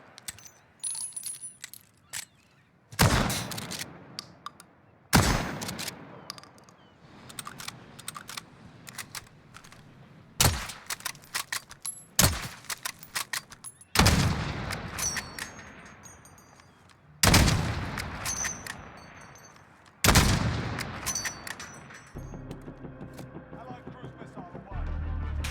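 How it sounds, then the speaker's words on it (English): A Kar98K bolt-action rifle fitted with a monolithic suppressor fires in Call of Duty Modern Warfare: about seven loud, heavy shots a few seconds apart, with quieter mechanical clicks and rattles of the bolt between them. "the sound of firing a Kar98K with a monolithic suppressor"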